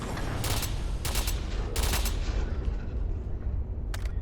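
Muffled bursts of suppressed weapon fire in modded Fallout 4, three or four quick cracks over a constant loud background, followed by one more shot near the end.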